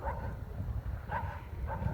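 A dog gives a few soft whimpers and yips, close and moderately loud, in short repeated bursts over a steady low background rumble.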